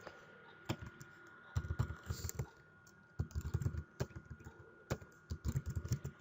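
Computer keyboard being typed on while JavaScript code is written, with quick clusters of sharp, close key clicks broken by short pauses, and faint talk in the background.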